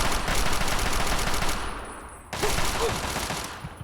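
Rapid automatic gunfire in Fallout 3 rattles loud and dense for about two seconds, cuts briefly, then bursts again before tailing off.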